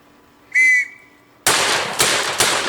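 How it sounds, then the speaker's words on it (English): A brief shrill whistle, then a WWI trench shotgun slam fired three times in quick succession, each blast loud, close and sharp with a ringing tail. "We're testing slam fire here versus regular fire"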